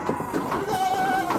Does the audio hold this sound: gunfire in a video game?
no